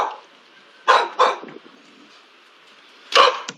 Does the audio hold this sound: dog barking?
yes